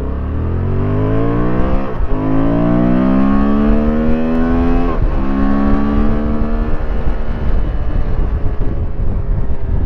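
A Honda Transalp 750 motorcycle on a test ride, its engine loud and close, revving up through rising pitch with two brief drops at gear changes before climbing again.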